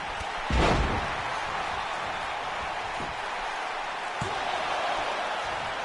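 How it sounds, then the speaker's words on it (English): A pro wrestler is slammed onto the ring mat at an APEX Wrestling show, a single loud, booming thud near the start. A steady crowd roar fills the arena, with a few lighter thumps following. "And Dylan Morrison now slamming down Young AK."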